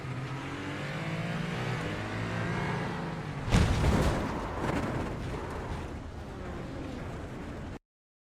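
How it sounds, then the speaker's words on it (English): Race car in an IMSA racing video game spinning its wheels, a sudden loud burst of engine roar and tyre noise rising over steady engine drone, then easing back to a continuous hum. "he just spun his wheels"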